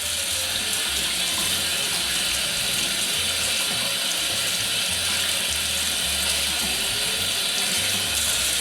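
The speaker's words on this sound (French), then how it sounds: "je vais laver mes morceaux de poisson pour extraire le maximum de sel" Tap water runs steadily over pieces of salt cod in a skimmer set inside a stockpot, a continuous close rushing splash with a faint metallic rattle underneath and no talking.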